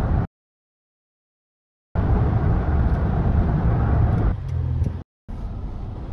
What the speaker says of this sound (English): I'm driving into town